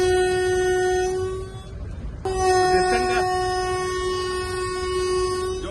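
A train moves off from Telapur station in a cab fitted with the Kavach anti-collision system. A loud, steady tonal sound like a horn or alarm sits over low rolling rumble, breaks off briefly and then resumes.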